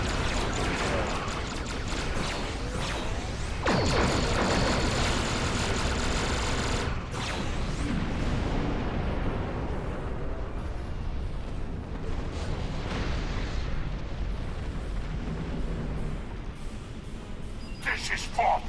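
Heavy starship weapon fire and explosions from a space battle in Star Trek Online, dense and loud throughout with a sharp burst of blasts early on, then rumbling combat that thins out near the end, with a voice speaking over it.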